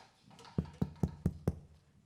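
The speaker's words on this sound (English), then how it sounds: "Doris arrives and knocks on his door." Five evenly spaced knocks on a wooden door, close and firm, with a steady rhythm and silence before and after.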